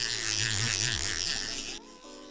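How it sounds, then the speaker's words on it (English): A fishing reel's drag clicker gives off a rapid, continuous buzzing rattle, loud and close, that cuts off abruptly near the end and leaves a faint hum. "Here is the drag clicker"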